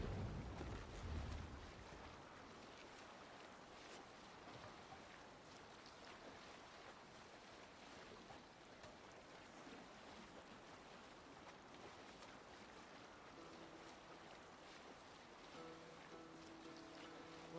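A sailing ship at sea in Assassin's Creed Valhalla: a steady wash of waves and wind around the hull, with a louder rush at the start, then soft and even throughout, with no voices.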